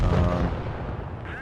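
Tank cannon fire traded in World of Tanks Blitz, a heavy booming shot with a rumbling low tail filling this short moment, loud and close.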